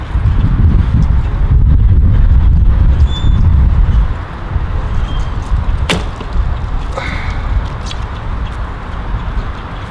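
Arrows loosed from a Border Archery of Scotland 19-inch Tempest ILF riser bow with Hex 7 limbs outdoors, each shot a faint, quick thump barely rising above steady wind noise, with a sharper snap near the middle.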